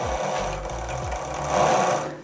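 A blind hem sewing machine stitches thin cotton fabric with a rapid, steady mechanical chatter that runs throughout, close and loud, with a slight swell near the end.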